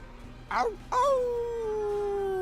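A dog named Fen lets out a long rising wail that settles into a sustained howl, preceded by a brief yelping cry, close and fairly loud over low background noise.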